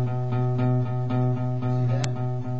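Open, unmuted acoustic guitar low E string strummed slowly and repeatedly, letting a full sustained drone ring between soft strokes, with one brief scrape near the end.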